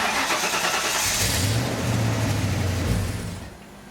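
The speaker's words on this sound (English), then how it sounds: "This first test is just going to be a baseline to make sure that the car still starts from 2 days ago." An SN95 Ford Mustang engine cranks and catches, then runs steadily at a rough idle before fading slightly, loud and close with no talking.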